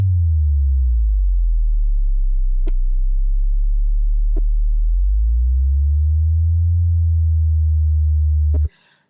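A steady synthesizer sine tone holding the note A, its pitch jumping in steps to random levels driven by a random sine LFO, loud and alone with a few faint clicks before cutting off.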